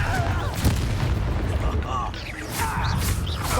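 Spell blasts in Hogwarts Legacy, including a Bombarda explosion, heard as booming magical impacts over busy combat effects, with a voice calling out spells during the fight.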